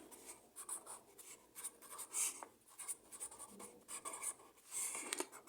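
A pen scratches steadily across paper as ace cards are written down, a soft continuous scribbling with short strokes and pauses, close but quiet.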